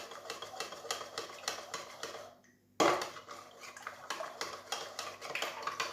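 A whisk or spoon stirs yeast being dissolved in a bowl for homemade pizza dough, giving a fast run of close clinking and scraping strokes, with a brief quiet pause before the stirring starts up again.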